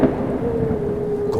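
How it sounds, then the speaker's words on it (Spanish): A storm's thunder rolls as a low, sustained rumble, loud and close, with a faint steady tone running through it and no voices. "la tormenta pareció alzarse de nuevo"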